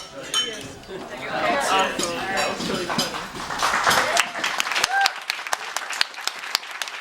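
Glasses clink repeatedly in sharp, bright taps during a wedding toast to the bride and groom, mixed with clapping and crowd chatter that fade to scattered clinks near the end.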